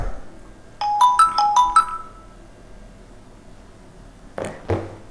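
A phone ringtone plays a short run of bright repeating electronic tones, clear and fairly close, then stops; a few soft knocks and handling sounds follow in a quiet room.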